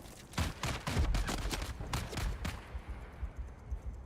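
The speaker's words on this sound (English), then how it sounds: "Wait, who's shooting at me?" Rapid bursts of gunfire crackle in the Dune: Awakening video game, a dense fusillade of sharp shots in the first two and a half seconds that thins into scattered, quieter reports.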